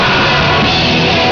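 Screamed vocals by the guitarist in a heavy halftime section of a song, a loud sustained yell over dense, distorted band music with no breaks.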